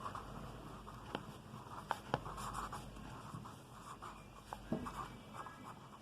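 A pen scratches across paper as the prime factors of 36 are written out, soft continuous scribbling strokes with a few sharper ticks and taps, close and fairly quiet.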